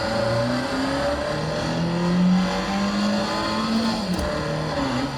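A car in a sim racing game drifts at a steady high rev, its engine note rising and falling as the throttle shifts, with tire squeal faintly underneath, loud and continuous, with no talking.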